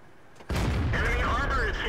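A T20 tank cannon shot in a tank video game, a sudden loud boom that cuts in abruptly and rolls on with a heavy sustained rumble and ringing tail.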